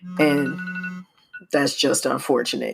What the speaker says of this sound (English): if you heard that vibration, that's my phone reminding me, hey, it's time to record